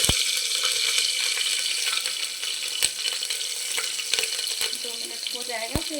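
Green chilies dropped into hot oil in a home kitchen sizzle with a dense, steady hiss, marked by a few sharp clicks and faint spattering near the end.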